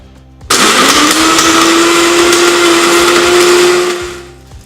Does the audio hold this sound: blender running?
yes